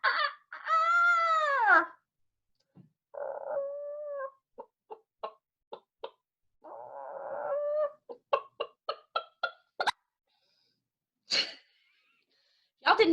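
A person vocally imitates a chicken, close up: long warbling squawks, then quick runs of short clucks with pauses between the bursts.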